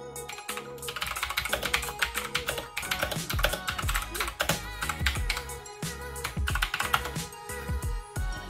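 Rapid, continuous typing on a Razer BlackWidow Chroma V2 mechanical gaming keyboard, dense clacky keystrokes close up and fairly loud, with no voices.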